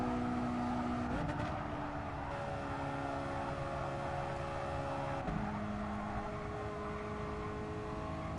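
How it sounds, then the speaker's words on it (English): Race car engine in Gran Turismo Sport revved hard in third gear going up a hill, a loud sustained droning whine that holds steady with slight pitch shifts, alone without talk. "I need to rev it all the way out in third gear going up the hill"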